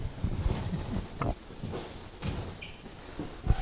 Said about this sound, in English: Oink, oink.